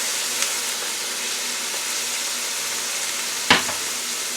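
Olive oil sizzles steadily in a hot pan as chicken fries, a constant frying hiss with a couple of brief clinks or stirs, no talk.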